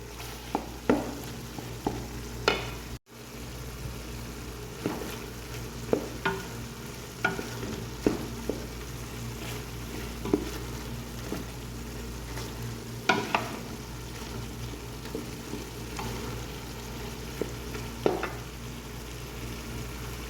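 Mutton keema sizzling as it is stirred and fried in a pan, a steady frying hiss broken by repeated scraping clicks of the spoon, close up with no voices.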